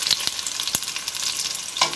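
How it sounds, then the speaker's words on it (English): Pork browning in a pan over a low flame for Chinese braised pork: a steady, gentle sizzle crackles close up, with sharp spatters and pops breaking through now and then, and no voices. "Now once it's beginning to brown, you lower the flame so that you don't burn your pork."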